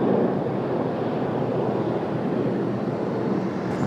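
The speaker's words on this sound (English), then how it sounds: "The wind really making the show difficult and really wreaking havoc on what we got going on here" Wind blowing at an airport, a steady loud rushing roar buffeting the microphone without letup.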